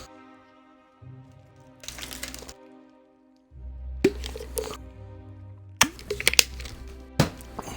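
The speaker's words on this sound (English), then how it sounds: "Yeah, the ice cubes in my G Fuel when I pick it up." Ice cubes clinking and rattling inside a G Fuel cup as it is picked up and moved, with bursts of knocking separated by pauses over a low background hum, close by.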